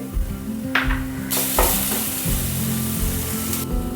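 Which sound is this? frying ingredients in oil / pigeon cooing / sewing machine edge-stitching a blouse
frying ingredients in oil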